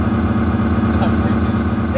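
A motorcycle engine idling close by, a steady low rumbling hum with an even throb, while a voice speaks briefly near the end.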